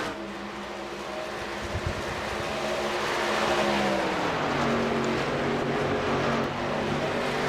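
NASCAR trucks roar through turns 1 and 2 of a racetrack, loud engines sweeping past and shifting pitch as they pass, continuous over the whole stretch with no talk.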